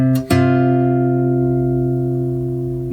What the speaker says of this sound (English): Then we're going to play the 10th fret of the G string,